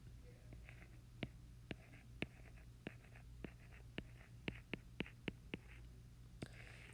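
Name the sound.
writing with a small pen or stylus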